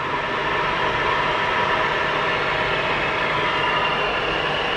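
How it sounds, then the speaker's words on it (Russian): Electric air conditioning compressor running unusually noisily in a Hyundai Kona Electric, mounted beneath the 12-volt battery; a steady, loud broadband whir and hum continues without break. "Как-то шумновато работает компрессор."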